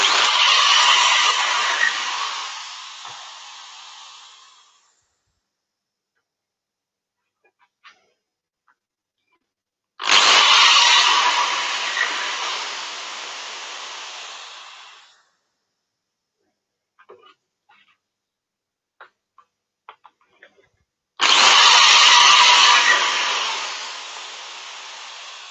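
A metal cutting drill bit bores into Purple Heart wood in three separate bursts, each a loud, bright whine that starts abruptly and fades over about five seconds, with quiet gaps and small clicks between them.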